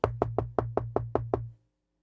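Eight sharp knocks on a wooden door come in a quick, even rhythm, loud and close, each one ringing briefly before the sequence stops and falls silent.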